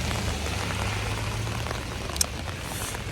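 Steady rain falls outdoors on a wet Thanksgiving Day in Brooklyn, a dense even hiss of drops on surfaces with a low background rumble and one brief sharp tap near the end, close and continuous with no talking.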